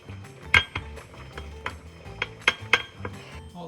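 Dishes and cutlery clink and clatter while being washed in a home kitchen, with sharp metallic pings and knocks at an uneven rhythm, close and fairly loud, with no talking.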